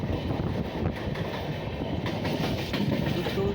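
The Kerala Rajdhani Express from Trivandrum Central to Hazrat Nizamuddin runs through the night past Surat, a close, steady rolling rumble of wagons on rails with faint clickety-clack, no voices.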